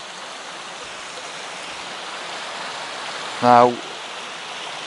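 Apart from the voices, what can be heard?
river flowing at Roche Abbey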